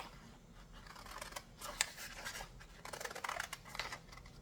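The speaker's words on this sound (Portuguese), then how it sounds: "e já vou cortar aqui" Scissors cutting dressmaking fabric for a dress, with a rapid series of close snipping and scraping strokes of the blades through cloth and no talking.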